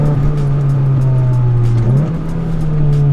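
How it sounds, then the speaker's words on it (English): An Acura Integra's angry-sounding 4-cylinder engine holds a loud, close, steady drone that briefly dips and climbs again as the revs shift, with no talking. "You get a nice sort of angry sounding 4-cylinder in there"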